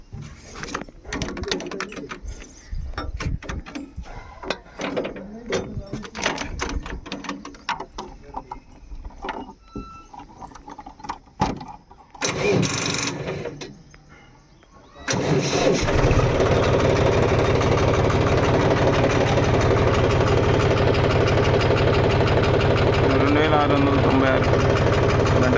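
A John Deere 5105 tractor engine starts up and settles into a steady, loud idle close by, following a stretch of irregular knocking and rumbling with talk over it.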